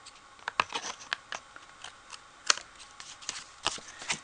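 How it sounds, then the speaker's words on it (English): Scissors snipping small paper tags from the edge of a handmade card with die-cut butterflies and peonies, a quiet, irregular run of close, crisp little cuts and paper rustles. "we just need to cut these little tags off on the edge"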